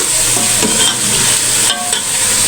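Chicken sizzles steadily in a hot pan while a utensil stirs and scrapes through it, the frying loud and close with a few clinks of metal against the pan; no voices.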